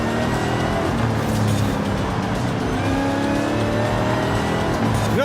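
A heavy 1960s super sport muscle car in a racing video game, its engine roaring steadily and loud throughout with tire noise while cornering, no talk over it.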